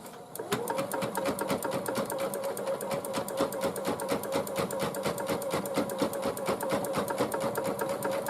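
An embroidery sewing machine tacks fabric down onto a hooded towel, a fast, even needle rattle that starts abruptly and runs steadily and loud for several seconds with no one talking.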